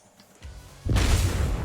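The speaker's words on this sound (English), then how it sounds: "the nuclear energy release basically is a large explosion that lights the entire area on fire and does monstrous damage" A large explosion from a nuclear energy release ability in Minecraft erupts into a loud, sustained roaring rumble after a brief lower thud, with no voices.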